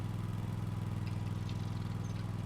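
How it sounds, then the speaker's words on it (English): A small lawn mower engine from the Farming Simulator 25 game runs at a steady idle, a continuous low throbbing drone with an even pulsing rhythm, close and unchanging. "this is just a little lawnmower"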